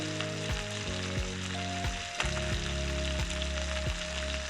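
Fish frying in a pan outdoors, a steady close sizzle and crackle running throughout, with low tonal hum lines underneath and no talking.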